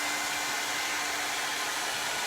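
A blow dryer brush runs continuously at close range during a round brush blowout on hair, a loud, steady airy whoosh with a faint motor hum underneath and no pauses.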